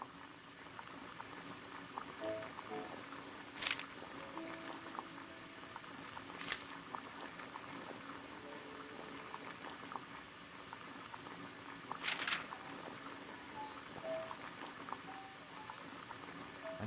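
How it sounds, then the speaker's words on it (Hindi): Water boiling in a kettle in a Sherlock Holmes video game, a steady bubbling, seething rumble that continues throughout with a few brief higher clinks and pops, no talking. "Boil water in kettle."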